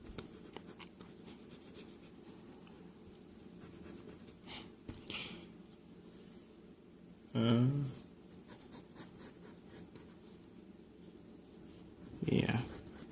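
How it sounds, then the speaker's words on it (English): A pencil sketches the outline of an Indoraptor on paper in quiet, scratchy strokes, close and soft, with occasional louder rubs and a couple of brief voice-like sounds. "so just drawing the outline"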